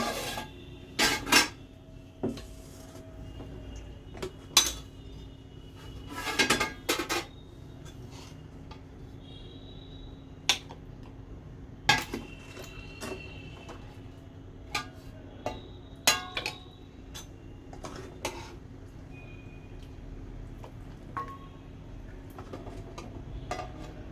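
Haddi guddi nihari ladled out of a metal pot, with repeated close clinks and clanks of a spoon against pot and dish, scattered at an irregular pace with no talk.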